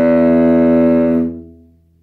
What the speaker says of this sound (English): we're going to play the E with a 3rd finger on the C string